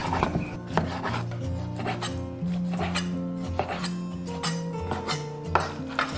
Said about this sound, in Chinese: 猪肝简单清洗一下，我们就给它切片了